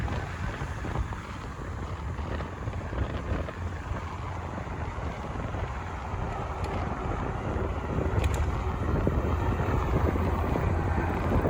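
Wind buffeting the microphone on the exposed Monarch Levee Trail in the Midwest, a constant rough rumble that swells slightly toward the end, with distant traffic hum beneath and no speech.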